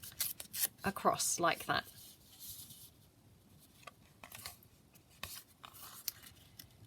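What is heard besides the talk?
tearing scrapbook paper by hand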